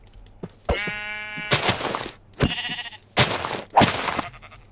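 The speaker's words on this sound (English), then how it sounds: "Oh, we got quite a bit of sheep over here." Sheep in Minecraft bleat several times in close succession, loud and near, with short gaps of quiet between the calls.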